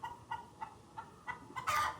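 Hens on a small farm in Ghana cluck in a steady run of short, close calls about every third of a second, ending in a louder, longer squawk.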